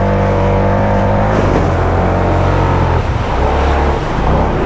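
Dirt bike fitted with prototype mud tires skimming across water, its engine loud and close with a steady roar and rising revs, the whine shifting as the throttle changes mid-run.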